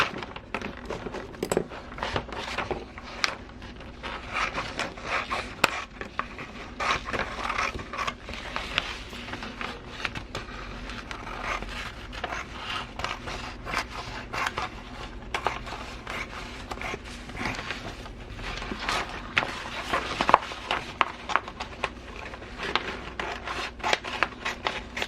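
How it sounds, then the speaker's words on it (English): Scissors cutting paper along a drawn line, close up: a long run of repeated snipping and rasping blade strokes with small clunks and creaks, steady throughout. "I know I can cut along that edge and it'll all be fine"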